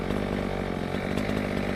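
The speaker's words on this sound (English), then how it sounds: "Chainsaw with a blade." A chainsaw with a blade runs steadily and loudly, a continuous engine drone with a dense buzzing roar throughout.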